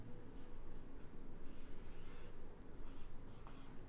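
Chalk or marker scratching steadily across a board in a physics classroom, a continuous rough scraping with short strokes, close and moderately loud.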